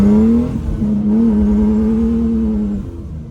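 Holley-tuned turbocharged car engine building boost at quarter throttle, a loud, steady drone that rises slightly in pitch and holds, then eases off near the end, close up with no talking.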